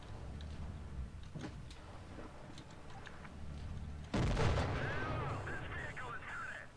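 Tank gunfire in a World War II–style video game: a heavy cannon blast booms suddenly partway through, followed by rumbling and mechanical whine, with scattered distant shots and a voice talking beforehand.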